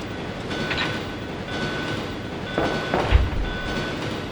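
A train rumbles along in Resident Evil 2, a steady close mechanical drone with faint rhythmic clatter and brief tonal squeals, ending in a heavier thump.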